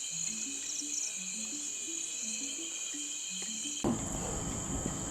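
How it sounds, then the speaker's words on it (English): Insect chirping at night, probably a grasshopper: faint, rapid, stepped trills repeating under a continuous high-pitched insect drone, ending with a brief burst of broadband noise. "Grasshopper."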